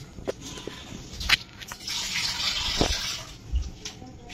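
Water from a tap gushes into a pot of kidney beans for Goan feijoada, a steady pour lasting a couple of seconds with clinks of a vessel around it.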